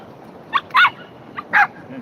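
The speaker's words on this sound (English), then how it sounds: "The yapping dog." A small dog yaps on a seaside promenade, giving two pairs of sharp, fairly close barks with short gaps between them and no talk over them.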